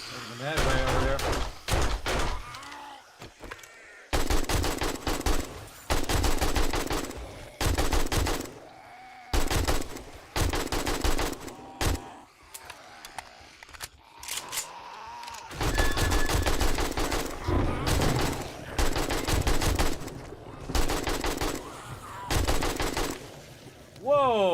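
Rapid bursts of automatic gunfire in the game 7 Days to Die, loud, dense volleys broken by short pauses, continuing throughout with a voice talking over the shooting.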